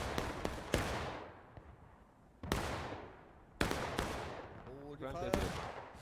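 Volleys of musket and artillery fire ring out across a large War of Rights Civil War battle at Dunker Church: sharp loud cracks with long echoing decay, several separated blasts, plus faint distant shots and shouting between them.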